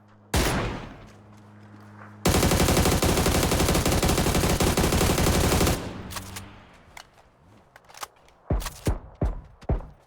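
Bursts of rapid automatic gunfire in a video game on the Erangel map, loud and sustained for several seconds, followed by scattered single shots and clicks.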